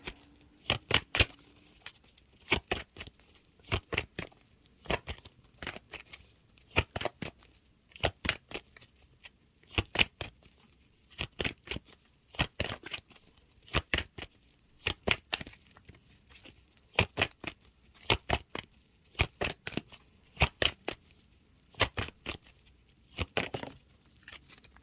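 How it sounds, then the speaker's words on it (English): Tarot cards are riffled and shuffled over and over in quick, crisp bursts of flicking paper, a steady close-up rhythm of clustered snaps with short pauses between and no voices. "Let's pull a clarification card on the Lovers."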